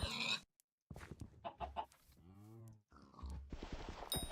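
Chicken in Hypixel Skyblock, a video game, clucking and squawking in short bursts of game audio, loud and close, with no talk over it.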